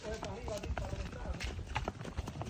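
Horses and mules clop along a mountain path in the Dominican Republic, hooves knocking in an uneven rhythm close by, under steady outdoor noise and people talking.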